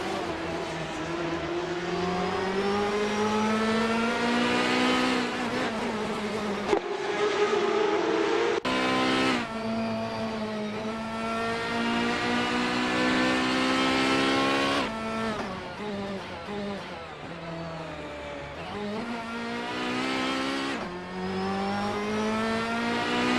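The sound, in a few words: Ferrari 355 Challenge race cars racing at Jerez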